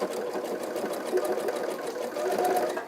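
A sewing machine stitches fabric while a clutch bag is being made, giving a steady close whirring hum that runs throughout and grows slightly louder near the end, with no talking.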